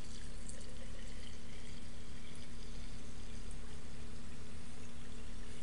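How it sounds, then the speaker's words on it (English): Water pours steadily into a glass jar, a continuous rushing, splashing stream that stays close and fairly loud with no talking. "add more water to it"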